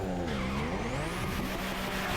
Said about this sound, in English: Let's listen to the turbo V6.